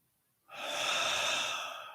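A long, steady breath out during a guided meditation, rising quickly and then holding soft and airy for over a second before slowly fading, close and alone with no talking.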